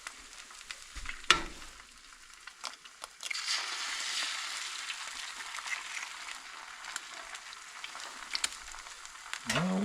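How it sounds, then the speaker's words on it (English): Eggs fry on a camp stove outdoors, a soft steady sizzle that swells after they hit the pan, with scattered clicks and scrapes nearby. "But I'll be able to tell when I throw these eggs down."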